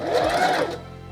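A sewing machine stitches pants fabric with a rapid, loud whirring run that slows and fades near the end, heard up close with no talking.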